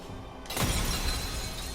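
Glass smashes in the video game Medievil, one sharp loud shattering burst followed by a sustained bright crash and tinkling debris that fills the rest of the moment.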